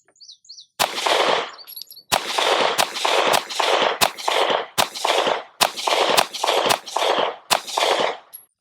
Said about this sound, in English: Now I'm gonna shoot round 2.